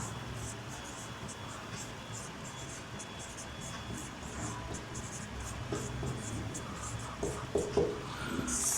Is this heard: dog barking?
no